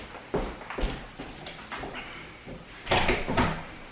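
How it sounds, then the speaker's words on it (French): A door swings shut indoors in a family home with a few soft knocks and a louder latch-like thud near the end, close by, with no talking. "Je vais fermer la porte derrière"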